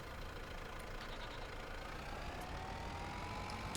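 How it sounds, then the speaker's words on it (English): A tractor engine in Farming Simulator 25, fitted with a front loader, runs at a low, steady idle, faint and unbroken with no speech over it. "So we can now start the engine"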